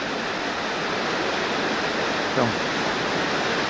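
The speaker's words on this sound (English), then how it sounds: "Avalanche Creek here at this point comes roaring" Avalanche Creek roars through Avalanche Gorge in Glacier National Park: a loud, steady, broadband rush of fast white water, close and continuous, with a brief voice over it.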